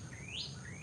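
A single clear bird chirp rising and falling outdoors, bright and moderately near over a quiet low background, with mockingbirds among the birds singing.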